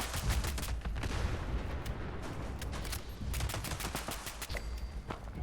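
Sustained automatic gunfire in the video game Fallout 76, rapid cracking shots in dense bursts over a constant rumbling game background, fairly loud throughout with no speech.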